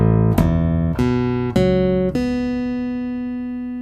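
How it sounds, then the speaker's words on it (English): Chapman Stick strings sound one after another at the 2nd fret through a Stickup pickup: five bright, sustained tones struck in a steady sequence, the last left ringing and fading. "So I'm going to play across the strings here at the 2nd fret."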